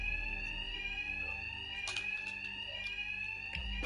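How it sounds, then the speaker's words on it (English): An alarm in Batman: Arkham Knight rings steadily and loudly with no pause, a sustained electronic tone with a few brief clatters over it and no voices. "Two-Face's thugs won't hear me over the alarm."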